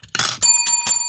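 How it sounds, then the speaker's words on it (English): A bell rings loudly up close to close a wrestling podcast episode, a bright metallic ding whose tone hangs on through several quick strikes in about a second, with no speech. "There's the bell, so we know what that means."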